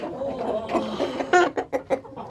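Freshly fed backyard chickens cluck close by, a steady murmur of soft calls broken by several sharper, louder clucks in quick succession near the end.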